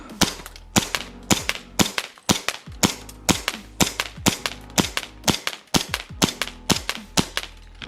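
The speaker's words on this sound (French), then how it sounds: "Test de tir du 911 auto-ordnance." An Auto Ordnance Colt 1911 gas blowback airsoft pistol firing 0.20 g BBs on 145 PSI gas, with about fifteen sharp, close cracks in a steady rhythm, each with a short metallic slide snap and no talking.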